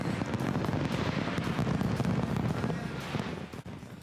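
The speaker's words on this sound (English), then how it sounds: "as fireworks lit up the night sky to welcome 2021" New Year fireworks over Sydney Harbour welcoming 2021 crackle and thump in a dense, continuous barrage of rapid pops and distant booms, steady for several seconds before thinning slightly.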